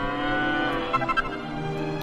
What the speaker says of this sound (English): That's just a cow.